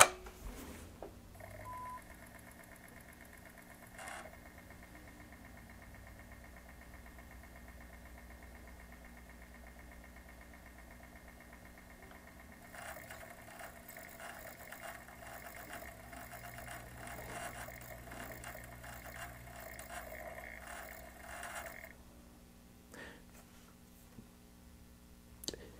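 Console disc drive whirring and clicking as it struggles to spin up a Crash Bandicoot CD, with a steady mechanical hum and tones through most of the stretch and a busier patch of rattling near the end; no talking.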